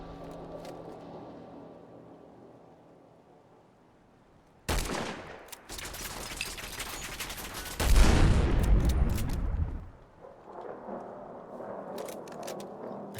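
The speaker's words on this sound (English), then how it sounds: "Machine gun turret Mark 5." A Mark 5 machine gun turret in Fallout 4 fires a sudden, loud sustained burst of automatic gunfire that swells into a heavier barrage before cutting off, followed by lower scattered crackling.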